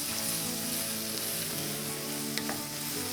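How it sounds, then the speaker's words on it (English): Tomatoes tipped into a pot of vegetables already cooking, giving a loud, dense, continuous sizzle with faint stirring underneath, heard alone. "We are going to throw those in the pot."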